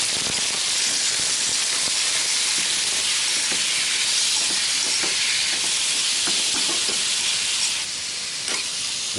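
Meat frying in a pan, a loud continuous sizzling hiss with occasional stirring clinks and scrapes throughout, no talk.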